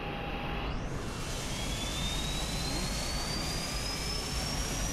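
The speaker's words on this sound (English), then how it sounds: "Now let's start with turning on the engines." A Boeing 777 airliner engine spools up in a flight simulator, a loud steady jet roar with a rising whine that climbs gradually and holds on without a break.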